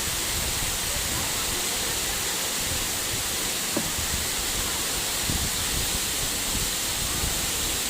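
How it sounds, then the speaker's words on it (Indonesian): A waterfall about 150 meters high in Trawas, with very clear water, roars as a steady, dense rush of broadband noise that stays even and loud throughout, with no voices over it. "Ketinggian air terjunnya ini kurang lebih 150 meter dari bawah itu teman-teman"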